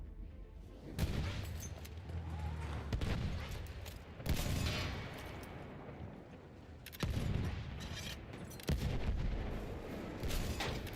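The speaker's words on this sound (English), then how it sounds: "Everything's blowing up." Battlefield 1 battlefield full of explosions and gunfire: heavy booms strike roughly every two to three seconds over a steady roar of shooting, loud and close.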